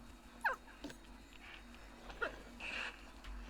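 Painted dogs in the Planet Zoo game, a few faint high yips and whimpers scattered over a quiet background, with soft rustling between calls.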